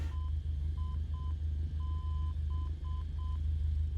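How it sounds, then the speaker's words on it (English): A VOR station's Morse identifier heard over the Nav1 radio in Microsoft Flight Simulator: a clean steady tone keying out short dots and a long dash, sounding over a continuous low cockpit engine drone. "So the Morse code that's unique to this VOR"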